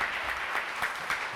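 Crowd applause from a played excerpt of Chaplin's The Great Dictator, a brief dense burst of many hands clapping, steady and somewhat distant, lasting just over a second.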